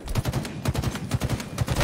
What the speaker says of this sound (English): the actual battle rifle is not a fully automatic assault rifle